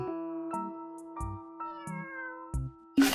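A cat in a pet shop video game gives a series of short, clear meows at regular intervals, close and distinct, ending in a sudden noisy burst.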